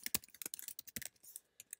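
Quick, irregular clicks of typing on a computer keyboard, close and fairly quiet, with short bursts of keystrokes and brief pauses.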